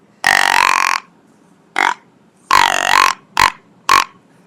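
A Rupert's Rut and Peace deer grunt call is blown in five loud, close grunts of varying length: two long, drawn-out ones and three short bursts, separated by silence.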